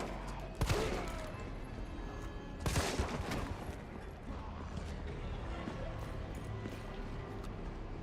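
Gunfire in a Resident Evil video game, with two sharp shots a couple of seconds apart over a low, steady game background.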